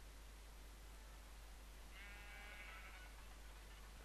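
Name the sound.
sheep bleating in video game Minecraft (FTB modpack)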